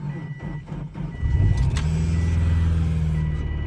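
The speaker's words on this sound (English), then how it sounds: "I gotta park this car in the garage" A car backs into a garage on a cold, windy day, its engine idling and rumbling close by while steady reversing beeps chirp repeatedly.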